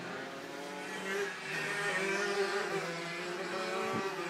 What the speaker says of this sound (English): I think that's a Dino 250 with a 256 Rotax on twin-cylinder tandem, ex-Grand Prix motorcycle engine actually.